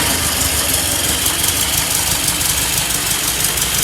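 A freshly restored 1965 VW Beetle engine idles steadily just after starting, a loud, close, even mechanical chatter with a constant rhythmic knock and no voices over it.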